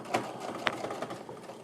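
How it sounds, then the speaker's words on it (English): A home sewing machine stitches quilt block pieces with a 1/4 inch seam, a soft, steady whirring hum with faint mechanical ticks, running continuously and fairly quiet. "set your machine up to sew a 1/4 inch, and then sew all the way down the side"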